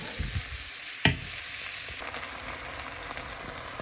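Thick raw honey is stirred into onions in a frying pan, giving a steady soft sizzle with scraping stir noises and one sharp clunk of a utensil against the pan early on.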